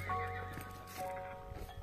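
A donkey on a long walking journey across France brays and whinnies with tonal, wavering calls, fairly close but not loud, with faint hoof and movement sounds beneath and no talk.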